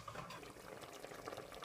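Tomatoes simmering in a pot for cream of tomato soup, giving a steady close wash of soft bubbling and popping that runs unbroken for a couple of seconds.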